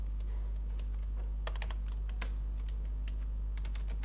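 Someone types on a computer keyboard, a scatter of quick, close key clicks in uneven bursts over a constant low electrical hum.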